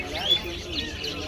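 Small caged birds, bulbuls and mynas, chirp at a Friday pet bird market in Dammam, Saudi Arabia. Faint, scattered tweets sit among busy crowd chatter and market noise.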